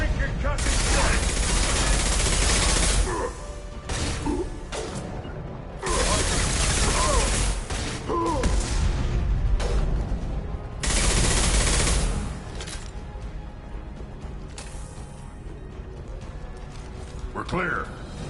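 Heavy concussive blasts and rapid gunfire in a video game battle, long dense volleys broken by brief lulls, with voices calling out over the shooting.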